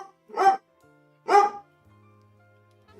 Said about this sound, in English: You want to hear the dog?